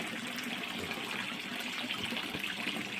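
Water runs steadily through a garden pond's bog filter, a continuous broadband trickle and splash that stays even and close throughout with no voices.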